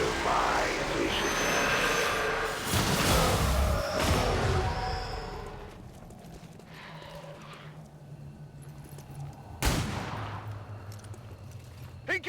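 Gunfire erupts in XCOM 2, a loud chaotic burst of shots and impacts at first, then quieter stretches punctuated by a single sharp blast, with brief speech mixed in.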